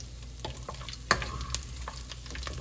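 Garlic frying in oil in a pot for gumbo, a steady soft sizzle with light stirring scrapes and a couple of sharper utensil clinks, close and alone without talk.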